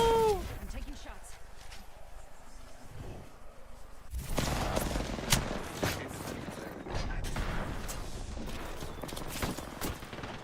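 Gunfire in the shooter Apex Legends, including the Wingman pistol: a dense patter of sharp shots over busy game noise with a louder stretch in the second half, while a voice talks over it.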